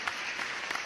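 A short burst of steady audience applause at a wedding celebration, with dense continuous clapping that is moderately loud and has no other sounds over it.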